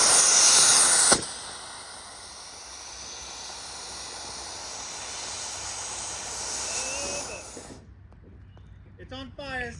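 A rocket thrust motor fires on a Honda N600 micro car re-powered with a CBR1000RR superbike engine, giving a sharp burst then a steady, loud hissing roar that drops away near the end, when voices shout briefly.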